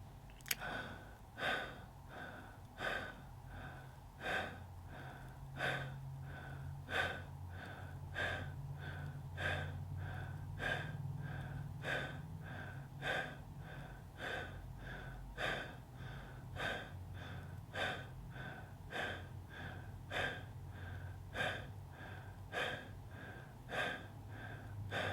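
Twenty-five connected breaths through the nose or mouth, taken in steady rhythmic succession as a guided group exercise; each breath is a clear, close, regularly paced puff with a low hum of room sound underneath.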